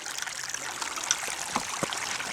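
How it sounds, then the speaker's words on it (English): Slow stream water upstream at a gold sampling spot trickles and burbles softly and steadily, with a few small drips and splashes rising above the gentle flow. "The water's moving really slowly."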